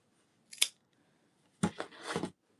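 Scissors cut close by: one quick snip, a short pause, then a longer run of several crisp snips in a row, with no talking.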